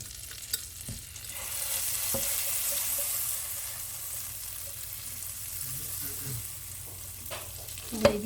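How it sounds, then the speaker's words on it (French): Butter cooks in a pan for a very pale roux in a chicken blanquette recipe, producing a quiet, steady hiss and gentle sizzle with a few utensil knocks. "Et on va faire un roux, mais vraiment un roux tout blanc"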